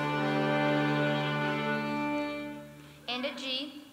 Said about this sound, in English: We also all have a D string.